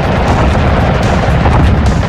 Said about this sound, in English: dropped my bomb.